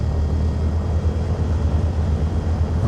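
Diamond Star light aircraft in Flight Sim World, engine droning steadily at close range on the runway for takeoff from Wick, a dense low rumble with no voices.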